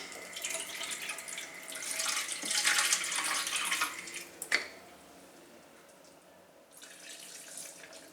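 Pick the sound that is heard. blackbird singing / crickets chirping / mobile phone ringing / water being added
water being added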